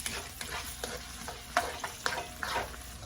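Onions fry in a pan with a soft, steady sizzle, broken by scraping stirring strokes and small pops at irregular intervals, heard close up with no voices.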